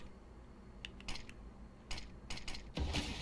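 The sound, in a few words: smoke grenade being thrown in video game Counter-Strike, Mirage map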